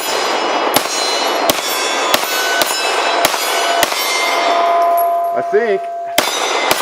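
Sharp, loud gunshots from a Walther P99 pistol, about nine evenly spaced shots with metallic ringing between them, close by and nearly alone, with a brief voice near the end.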